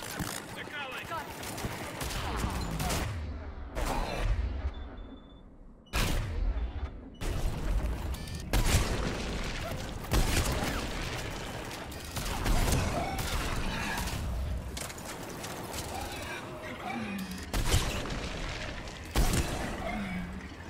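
Gunfire and explosions from the video game Mass Effect Legendary Edition: loud volleys of shots and heavy booms come in repeated bursts with short gaps between them, and talk runs over parts of the clip.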